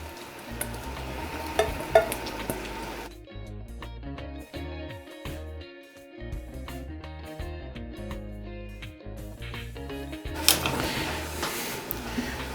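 An egg and a tortilla fry together in a hot pan, crackling sizzle with stirring and scraping sounds, moderately close, some quieter stretches between busier bursts, no talk.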